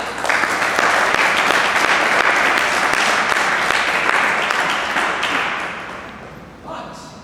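A netball audience gives sustained loud applause, dense steady clapping from many hands in a hall that carries on for several seconds, then tapers off and briefly picks up again.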